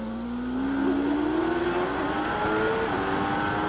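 Michael Schumacher's Formula 1 car at speed, heard onboard during practice at the 1993 French Grand Prix: a loud, steady, high-pitched engine scream climbing through the revs, continuous and close.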